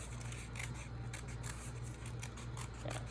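Scissors snip through paper while cutting out a paper dragon puppet piece, a close, steady series of soft rasping cuts with no voices.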